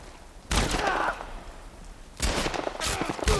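Gunfire in The Last of Us Part 1, two loud bursts of shots, the first around half a second in and a second, choppier burst near the end, separated by a quieter stretch.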